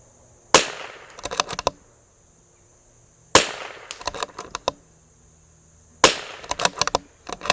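A CZ 457 rifle fitted with a Volquartsen extractor fires three sharp, loud shots spaced a few seconds apart outdoors, each followed by a quick clatter of metallic clicks from the action.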